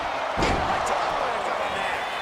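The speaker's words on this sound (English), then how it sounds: "Driven into the steel steps." A wrestler is driven into the steel ring steps in WWE 2K25, one heavy slam-and-crash impact early on, followed by a roaring arena crowd and commentary that continue loudly throughout.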